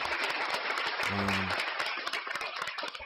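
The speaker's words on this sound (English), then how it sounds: "That round of applause is for you." An audience claps in a dense burst of applause, many hands overlapping near the mic for a few seconds and thinning slightly toward the end, with a brief voice heard partway through.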